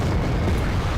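Artillery explosion in Wargame: European Escalation, a dense low rumbling roar filling the whole second, loud and sustained with no talk.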